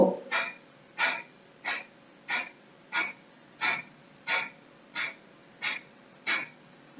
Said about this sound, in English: Take a deep breath again